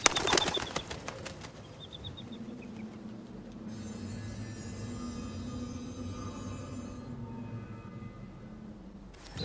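A bird takes off with a burst of flapping wings at the start, followed by a softer flutter, then a long low rumbling hum and high whine carry on steadily underneath.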